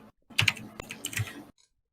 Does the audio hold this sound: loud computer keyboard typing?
yes